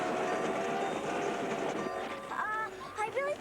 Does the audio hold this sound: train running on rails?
yes